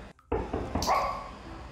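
A pet dog named Bomi reacts to a knock with a short, sharp bark followed by a softer yip, close by and brief.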